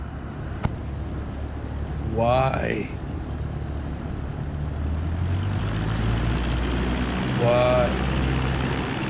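A propeller airplane engine idles steadily while taxiing in the video game Flight Simulator 2024, a constant hum under a voice that speaks twice.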